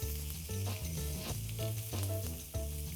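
A pork chop sears in a hot pan with a loud, hissing sizzle over rhythmic music with a clear beat.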